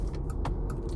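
Road and engine rumble fill the cabin of a moving car, a steady low drone with faint rattles and clicks over the top.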